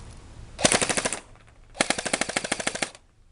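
A Burst Wizard King Kong Beta blaster on full auto fires two close, loud bursts of roughly a dozen rapid shots each, separated by a short pause, with no talking.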